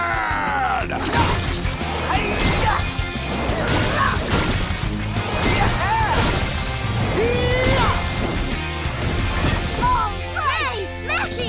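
A cartoon wrecking ball crane smashes through obstacles in a Blaze and the Monster Machines desert race: loud crashes and whacks come over busy music and effects, with excited voices talking throughout.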